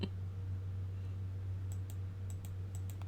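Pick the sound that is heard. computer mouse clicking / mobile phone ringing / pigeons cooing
computer mouse clicking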